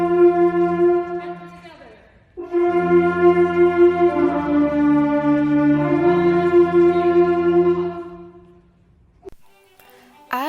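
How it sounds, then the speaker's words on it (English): A high school concert band tunes up together on a sustained concert B-flat, a full ensemble chord swelling and holding with layered wind voices, pausing briefly before resuming and fading out. "the band warms up as an ensemble, most often, if not always, on concert B-flat"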